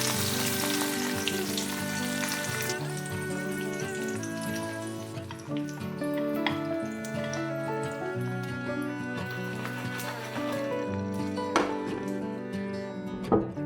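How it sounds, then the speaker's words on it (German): Pancake batter with white spring onion stalks fries in a covered pan, a steady close crackling sizzle with scattered sharp pops throughout. "Deckel zu und kurz braten."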